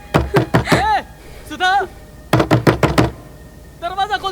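Sharp knocks on a door in bursts of a few raps, interleaved with a woman's and man's loud, urgent speaking in Hindi; the knocking is close and forceful, alternating with the voices.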